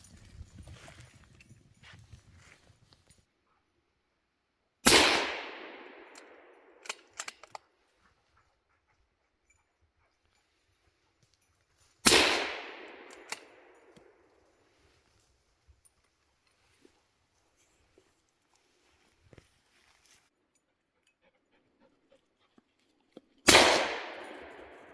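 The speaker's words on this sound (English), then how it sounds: "For a bit of fun, we fired a few rounds before cleaning up the target again." Three sharp gunshots ring out several seconds apart during a rural Swedish target session, each a loud crack with a decaying echo, separated by quiet stretches with faint clicks and handling noises.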